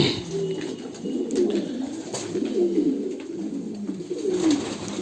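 Fantail pigeons coo softly and repeatedly on a fancy pigeon farm at feeding time, low rolling calls overlapping against steady background noise and rustling.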